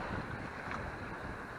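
A sailboat under sail with its engine off, heard as steady wind rushing over the microphone with the wash of water along the hull, close and continuous, with no talking.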